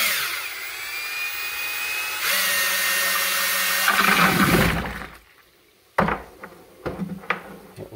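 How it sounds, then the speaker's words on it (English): A power drill fitted with a stirring attachment whirs steadily as it aerates a rice whiskey wash with dunder in a bucket. The motor pitch shifts once, then it stops, followed by a few sharp knocks and clatters. "I have the little stir thing here. We're not so much mixing now, we're aerating."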